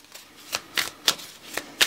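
A deck of tarot cards being shuffled up close, with crisp riffling bursts repeating at a steady pace, fairly loud and with no talking.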